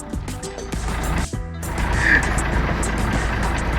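Truck pulling away on a road out of town, its engine rumble building steadily and staying close, with a brief dip partway through and faint noise around it.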